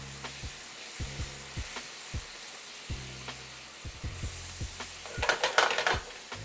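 Garlic butter steak bites sizzle steadily in a pan with a soft frying hiss, punctuated by periodic spoon scrapes and stirring, then a burst of louder clinks and spattering near the end; no one speaks.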